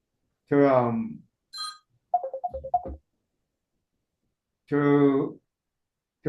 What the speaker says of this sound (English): The phone just rang.